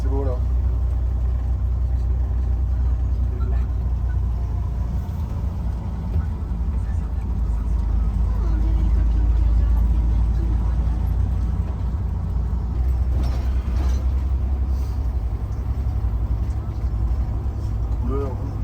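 A converted coach bus fitted with a Tesla electric motor and towing a trailer drives along, making a steady low rumble of road and drivetrain noise with faint whine, continuous and close, while a voice talks over it.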